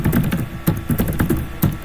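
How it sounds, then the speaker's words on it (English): Typing on a computer keyboard, a close, steady patter of key presses with a few heavier strokes standing out. "Suppose I'm typing something"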